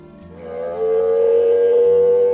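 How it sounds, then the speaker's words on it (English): A humpback-style whale song off Bermuda near Challenger Bank: one long, rising tonal moan that swells and holds steady, loud and close, with no other sounds. "they heard a whale singing"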